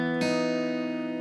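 A guitar sounds the open D string together with two fretted notes as one plucked chord that rings and fades gently, soft and close, with no voices.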